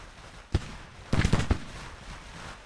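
Merrill carbine volleys in the Grand Tactician Civil War strategy game: a single sharp crack, then a ragged cluster of several overlapping shots and one more report, all fairly distant against a low background hum.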